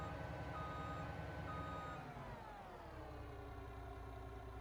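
Truck reversing beeps while parking on a farm in Farming Simulator 25, a steady repeating tone over a continuous engine hum, loud and close with no talk.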